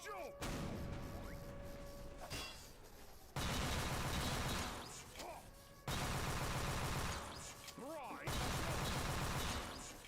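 Pistol fire in a video game shooter, several bursts of sharp repeated shots separated by brief quieter gaps, loud and close, with ringing game effects between volleys.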